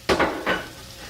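Chopped onions, peppers and seeded habaneros hit a hot pan for spicy BBQ stuffed hamburgers, giving two quick bursts of sizzling that settle into a low, steady hiss.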